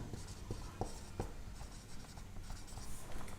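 A pen scratches out a trigonometry solution by hand, steady soft strokes with a few sharper taps, close and quiet, with no talk over it.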